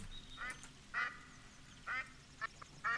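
Goldeneye ducks quacking in The Hunting Lodge hunting game on the Revontuli Coast, several short nasal calls in irregular bursts over a quiet ambient background.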